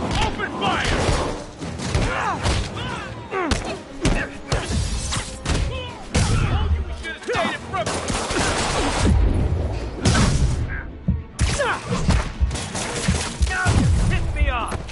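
Rapid bursts of gunfire and thuds in the Marvel's Spider-Man video game during a storefront robbery, dense and loud throughout with shouted voices mixed in.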